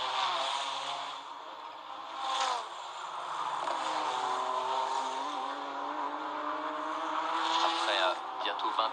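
A race car at the 1996 24 Hours of Le Mans roars past at high revs, loud and sustained with a rising engine pitch, as a commentator speaks over it.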